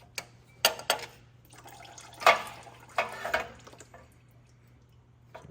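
Transmission fluid draining out of a truck transmission part during a G56 swap prep: intermittent dribbles and splashes in uneven bursts, a few sharper drips and trickles close by over a steady low hum.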